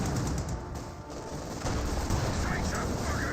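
Mortar impacts and gunfire from the Company of Heroes 2 strategy game, a dense continuous barrage of cracks and booms with a voice talking over the battle.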